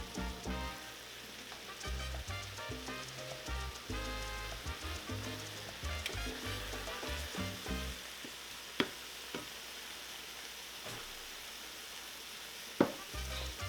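Two pounds of ground beef sizzling in a pan as seasonings for tacos are stirred in, a close, steady crackle with scraping stir strokes and a couple of sharp clacks, no talking.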